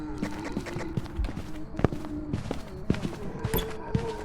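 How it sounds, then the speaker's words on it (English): Slow, heavy ghost footsteps in Phasmophobia thud in an even, deliberate cadence, roughly one step every half second, close and distinct over a faint ambient hum. "I just want you to hear the cadence of the footsteps"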